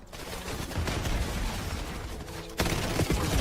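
Dense, loud automatic gunfire from Call of Duty Black Ops 7 play, continuous bursts with a sharp louder volley near the end.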